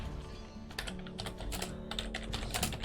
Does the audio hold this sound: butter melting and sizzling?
no